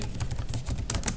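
Computer keyboard keys tapped in quick, uneven bursts while typing Vim commands in an Ubuntu terminal, close and fairly loud, with a low background hum and no speech.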